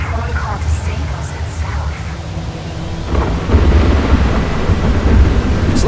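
A thunderstorm in the video game Atomic Heart rumbles as a steady heavy roar with rain hiss, swelling louder midway.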